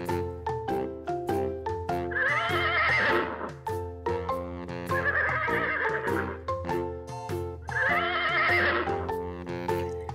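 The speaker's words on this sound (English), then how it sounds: "And the next animal is horse." A horse neighs loudly three times, long shrill whinnies spaced apart, with rhythmic clip-clop hoofbeats and knocking sounds throughout.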